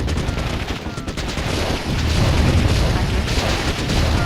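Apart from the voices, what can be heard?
gunfire and explosions from units attacking a base in Warzone 2100 video game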